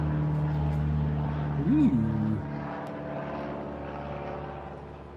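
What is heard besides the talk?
small propeller airplane, like a Cessna, flying over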